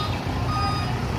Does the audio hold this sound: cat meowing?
no